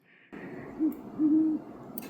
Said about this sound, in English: We have great horned owls.